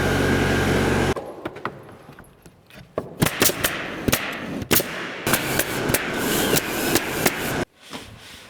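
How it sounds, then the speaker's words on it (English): Hammering on plywood sheets during a pole barn remodel: a run of sharp, irregular strikes, some close together and some spaced out, loud and near. Fainter knocks and clatter sit between them, and no one talks. "There's a lot of plywood, a lot of nailing"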